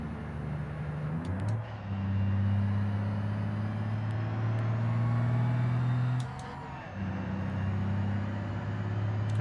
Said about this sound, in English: I'm getting really good at downshifting now too, with the dual shift semis.